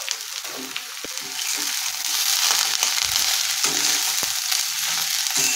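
Carrots, capsicum and cabbage sizzle and crackle in a hot pan on a high flame for veg chowmein, a loud continuous hiss broken by scraping tosses of the vegetables.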